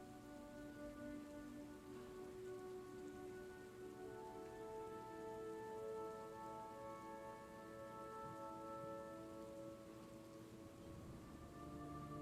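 Steady rain falls on a surface in a constant, soft wash of patter, quiet and even throughout with no voices.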